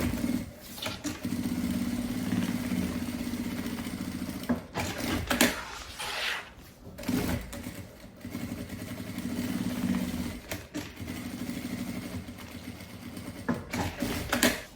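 A sewing machine stitches a lining to bag fabric in several long, steady whirring runs, broken by pauses with handling clatter and fabric shuffling between passes, close and fairly loud.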